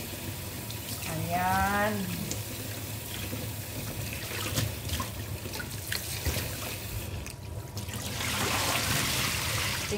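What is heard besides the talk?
tap water washing eggplant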